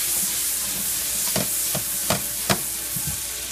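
Shallots frying in a pan for shrimp scampi, a loud continuous sizzle with a few sharp spoon-scrapes or stirring clicks spaced through it, no voices.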